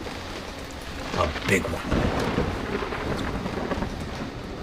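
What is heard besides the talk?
thunderstorm with rain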